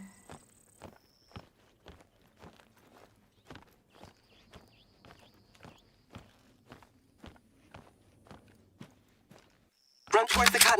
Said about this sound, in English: Do I hear footsteps?